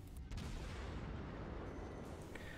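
Tenryu cruiser in World of Warships firing its guns, a dense, continuous booming barrage of shell fire that swells after a brief opening and stays loud and rumbling throughout.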